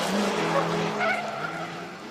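Race cars launch down a drag strip at a spectator drag event, a McLaren pulling against a Crown Vic, with loud continuous engine roar and tire squeal close by for the whole stretch.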